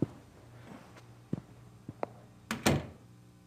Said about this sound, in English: Close the door on the way out, please.